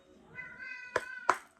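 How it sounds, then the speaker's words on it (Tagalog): A pet cat gives a short vocal meow followed by two sharp, louder bursts close by, heard alone without talk. "Okay, sumasagot yung pusa ko."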